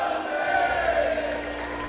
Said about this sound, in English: the loud J.J. Pierce Mustang cheer from the crowd